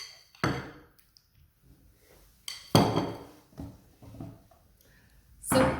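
A spoon clinks and taps against a fruit salad bowl while juice is spooned in, giving a few sharp separated knocks with quiet gaps between them.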